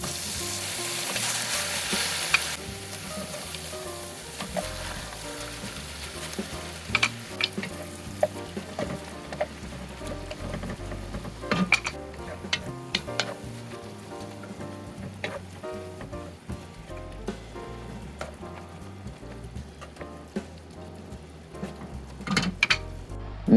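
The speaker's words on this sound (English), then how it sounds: "let's brown the ground beef and get on with cooking" Ground beef browns in a pan for chili with a steady, close sizzle and frying crackle, punctuated by sharp scraping and stirring clicks throughout.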